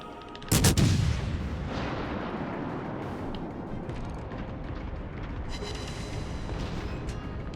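Naval gunfire in the World of Warships Legends video game: one loud, deep cannon blast near the start, followed by a long rumbling decay and continuous battle ambience for several seconds.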